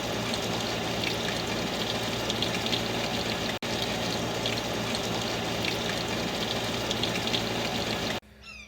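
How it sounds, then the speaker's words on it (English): Water pours steadily out of a leaking Pentair MasterTemp 400 pool heater, a constant close gushing and splashing rush that holds even for several seconds before cutting off abruptly. "So I went around and looked at the heater, and water's just pouring out."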